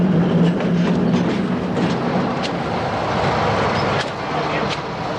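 Zillertal narrow-gauge railway train in Austria running on its two-foot track, a loud continuous rumble with faint rhythmic clicks of wheels, close and steady throughout.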